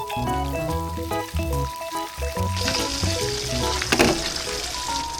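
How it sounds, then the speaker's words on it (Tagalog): Fish fries in a pan with a steady sizzle and crackle, heard close and fairly loud beneath background music, with a brief spattering flare toward the end. "nagluluto rin ako ng isda na prito"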